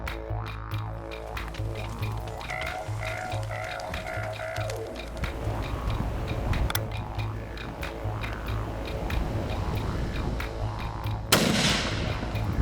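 A hunting rifle fires a single sharp, loud shot late on an outback hunt in Australia's Northern Territory, following a long stretch of rhythmic low thumping and outdoor ambience.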